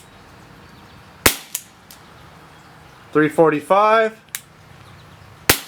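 Sharp, snappy shots from a Umarex Walther CPSport CO2 pellet pistol, three spaced cracks with a couple of fainter clicks, someone briefly talking in between.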